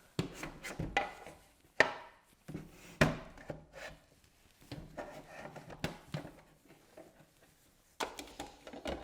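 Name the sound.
PETLIBRO automatic cat feeder dispensing food into bowl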